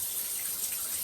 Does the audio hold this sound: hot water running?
yes